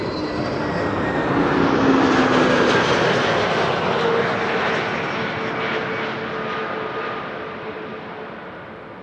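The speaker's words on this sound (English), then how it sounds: "Next up is the Transavia A321neo arriving from Malaga" A Transavia Airbus A321neo arrives at Amsterdam Schiphol, its engines a loud, sustained roar that swells to a peak and then slowly fades as it passes, with no talk over it.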